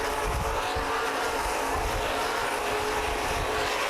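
Stock race cars roar around Columbus Motor Speedway in a loud, continuous pack, engines blending into a dense wall of noise with no talk over it.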